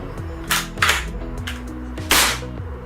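A Hatsan Vectis lever-action PCP air rifle is dry-fired, giving a few sharp metallic snaps and clacks spaced out over a few seconds, close and distinct with faint mechanical rattling between them.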